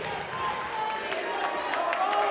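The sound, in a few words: wrestling arena crowd cheering and clapping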